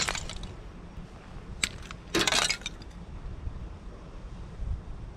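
A fist punches through a sheet of ice outdoors, a sudden crunching, cracking break with brief tinkling shards, set against steady wind noise on the microphone.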